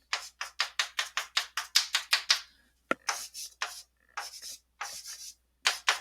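Someone draws a diagram on a board during a lecture: rapid, rhythmic scratchy strokes, then a sharp tap and slower, longer scrapes with short pauses between them, close and clear, with no talk.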